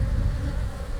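Honey bees hum in a dense, low, continuous drone at an open hive during spring maintenance, with the buzzing close and steady throughout.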